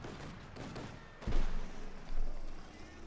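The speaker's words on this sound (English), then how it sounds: "Autocannon singing away there." Autocannon fire in Company of Heroes 2, a moderate burst of distant thudding shots amid battle noise and low game ambience, with commentary talk running over it.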